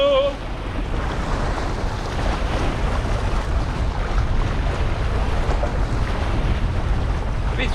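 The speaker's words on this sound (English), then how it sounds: "If this wind died down a bit" Strong, steady wind roaring and buffeting a microphone on a tidal riverbank during sea fishing, a continuous loud rush with no pauses and water sounds blended in beneath.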